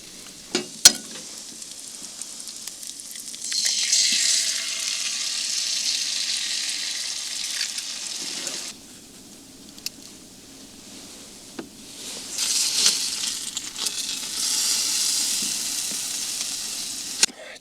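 Frozen olive oil heating in a pan at a camp stove on a cold morning beside a 1946 teardrop trailer, West Virginia: close, crackling sizzle that swells in two loud spells and settles into quieter hissing between them.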